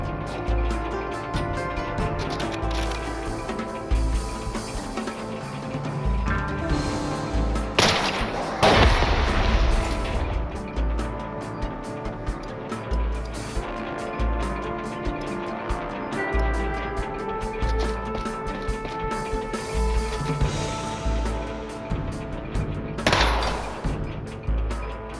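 Gunfire in SteamWorld Heist II, a turn-based robot shooter, cracks out in scattered shots and short bursts over a dense, continuous music score, with one louder blast standing out near the middle.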